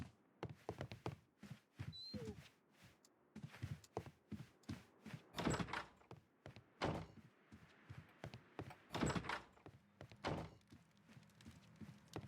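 In the Sherlock Holmes: Crimes & Punishments video game, a door thunks and bangs in a string of heavy, irregular knocks and thuds, alone and fairly close, with quiet gaps between the hits.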